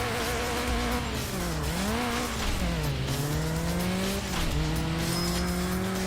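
A car swerves around a corner in Burnout 3: Takedown, its engine droning steadily while the pitch dips and climbs with each turn. Tire squeal is hard to pick out, and no one talks.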